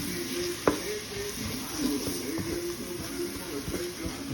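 Seasoned rice being stirred in a hot pan: a steady sizzle with a sharp utensil scrape near the start, then softer shuffling strokes throughout.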